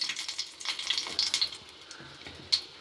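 Hot mustard oil sizzles and crackles as spices and a dry red chilli go in, bright spattering pops clustered in bursts over a soft frying hiss, close by with no talk.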